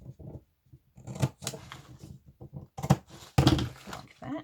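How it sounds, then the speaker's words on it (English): Scissors snip a V shape into folded paper book pages, a series of close, crisp cuts coming in uneven bursts with short pauses between them and no talking. "you cut a little V either side of that line"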